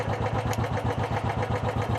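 An engine idles steadily while charging the battery, a close, rhythmic mid-pitched chugging with even pulses throughout and no talk over it.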